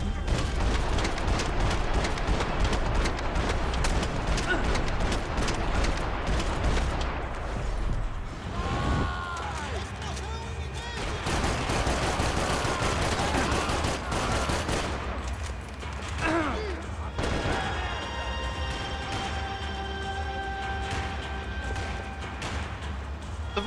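Dense, loud gunfire from the video game Max Payne 3 fills the scene in sustained bursts and booms, layered with game music and effects, continuing almost without pause throughout.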